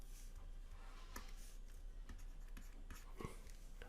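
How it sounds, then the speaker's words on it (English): A pen scratches and taps across paper while a diagram is sketched for a mechanics problem, giving a steady, close, faint rustle with scattered small ticks and no talking. "So let's start off by drawing a diagram here."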